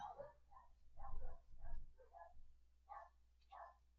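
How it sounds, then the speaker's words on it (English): Several dogs bark in short separate bursts, roughly five or six across the span, at moderate distance over a low steady hum, with no talking. "My dogs go insane when the neighbor dog comes"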